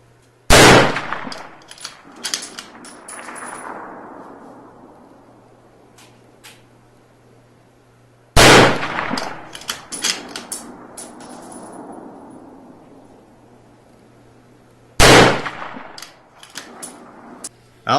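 Rifle shots fired in a Proof Research carbon barrel test, three loud, sharp reports spaced several seconds apart, each followed by metallic clatter and a long, decaying outdoor echo.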